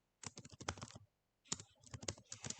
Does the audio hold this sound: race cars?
no